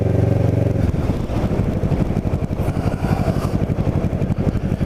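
Kawasaki Ninja 650r motorcycle riding through town in Cape May, a loud, close engine with a steady rhythmic pulse, dropping from a higher rev to a lower throbbing note.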